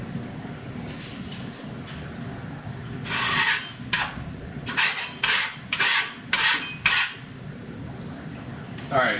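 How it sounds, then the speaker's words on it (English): A metal spatula scrapes leftover gunk off a hot smash-burger griddle in a run of short, rasping strokes, loud and close, with the steady sizzle of the cooking surface underneath. "just scraping the excess gunk out of there"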